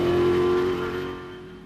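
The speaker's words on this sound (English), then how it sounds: "They'll have to move it as the leading Hilux is going very quickly." Toyota Hilux rally car in the Sugarbelt 400 race accelerating fast, a loud close engine roar holding a strong tone before fading slightly as it moves away.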